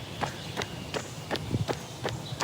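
Running footsteps on an outdoor run land in a steady, even rhythm, each stride crisp and close over a constant wash of background noise.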